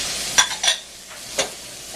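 Pork, beef and veal sizzling in a hot pan while being broken up, three brief scraping strokes of a utensil over a soft background hiss.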